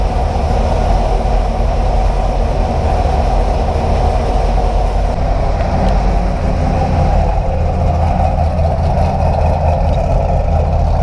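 A C5 Corvette fitted with XSPower headers and exhaust idles at close range, a loud, unbroken low rumble that holds steady throughout.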